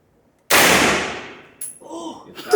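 A single loud gunshot fired at a shooting range cracks sharply and then rings out in a long decaying tail, followed by faint clinking and a brief voice.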